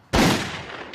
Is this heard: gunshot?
yes